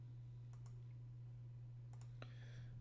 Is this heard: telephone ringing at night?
no